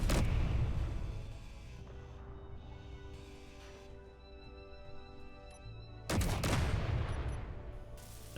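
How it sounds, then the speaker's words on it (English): An automated gun turret fires in the RV-combat video game, loud rapid bursts at the start and again near the end with quieter humming machinery in between. "the gun is shooting the thing that I'm grinding down as opposed to the thing above us"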